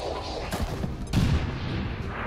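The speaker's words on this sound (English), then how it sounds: "Werfe Granate!" A grenade explodes in XCOM 2 with a deep boom and rumbling blast that swells over a dense, busy game soundscape of repeated gunfire.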